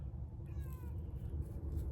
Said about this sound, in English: Gotta get the cats away from me.